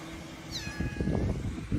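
A kitten, one of a large litter, lets out a single thin meow amid busy rustling and thumping noise close by.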